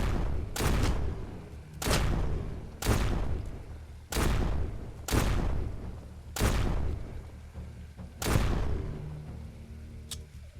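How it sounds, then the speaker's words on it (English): Shotgun blasts in the zombie shooter Surroundead: seven heavy booming shots fired at a steady pace about a second apart, with a short pause before the last, each ringing out and decaying. "from here on out, we're going to use the shotgun"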